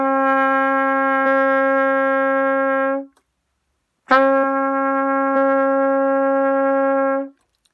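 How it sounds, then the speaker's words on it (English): A trumpet sounds the note D with the first and third valves pressed, played as two long sustained tones of about three seconds each, separated by a short gap, loud and close with no talking. "The next sound we are going to be playing on the trumpet is the sound D, and it's played by"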